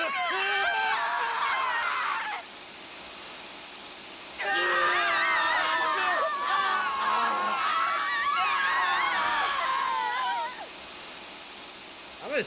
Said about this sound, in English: I didn't expect everyone to scream in agony all then again.